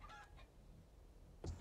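A chicken in the 7 Days To Die video game gives a few short, faint clucks, distant and quiet over soft background noise.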